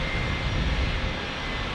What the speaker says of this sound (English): We got the old 757. Here, I'll turn up the volume for the engines.